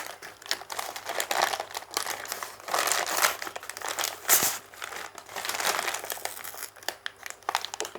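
Packaging of a GoPro helmet mount being pulled open and peeled apart, with steady crinkling and crackling of wrapping for several seconds and brief tearing bursts, close and fairly loud, no talking.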